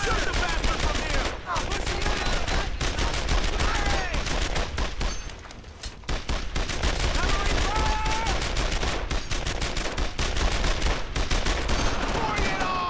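A long, heavy firefight in the WWII game Brothers in Arms: Earned in Blood, German-held French village, with relentless volleys and machine-gun bursts, a brief lull midway, and shouting voices mixed in.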